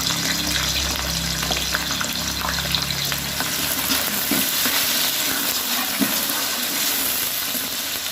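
A kilo of finely chopped onions fries in hot oil, a steady, loud, dense sizzle with faint stirring scrapes and no talking.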